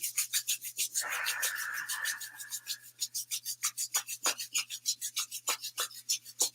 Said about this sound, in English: So rubbing the hands quite quickly